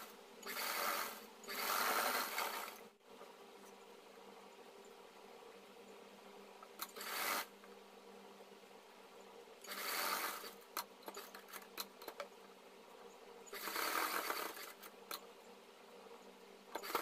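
A sewing machine stitches a kurti collar in quiet bursts of rapid whirring, about four runs of one to two seconds with soft handling noises between them and no talking.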